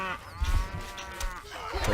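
Cattle moo in Stronghold Crusader, several drawn-out bovine calls rising and falling over about two seconds amid faint game ambience, clear and fairly close, without speech.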